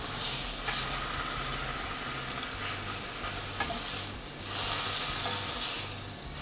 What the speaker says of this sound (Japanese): そういうステーキを焼くときは強火で両面もう30秒ずつぐらい焼く